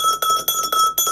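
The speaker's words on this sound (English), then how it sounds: "gave you a ring just like that on the bell" A small bell on a working grain mill rings in quick repeated strikes, struck by the grain feed acting against a leather belt as the millstones turn; bright metallic rings with sustained tones, close and steady.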